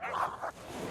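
Sled dogs in an Arctic team squabbling, with a couple of short barking, yipping bursts close by over a noisy background.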